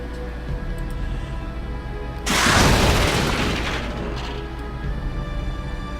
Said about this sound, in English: We're going to blow up the wall.